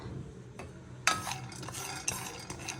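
Chana dal being dry-roasted in a pan, with a soft rattling scrape as the lentils are stirred, plus a couple of sharper clinks of a utensil against the pan, close and without talk.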